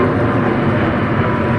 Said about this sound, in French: you will see planes fly by here